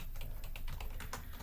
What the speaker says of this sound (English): I always start by typing the student's name